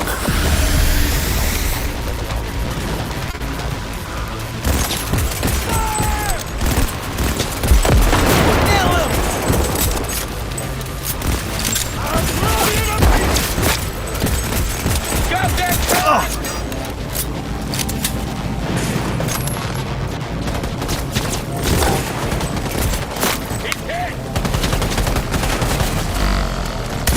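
Gunfire in the video game Cyberpunk 2077, a dense, sustained firefight of rapid bursts and single shots with occasional booms, close and loud, with voices shouting over it at times.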